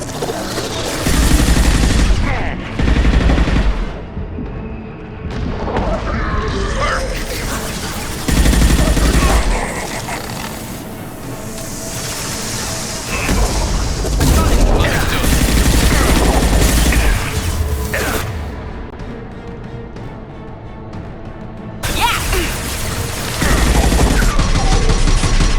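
Sustained gunfire and explosive bursts from a sci-fi combat firefight aboard the Collector Ship in Mass Effect Legendary Edition, loud and dense, with repeated heavy volleys and booms over roughly twenty-five seconds, no talk heard.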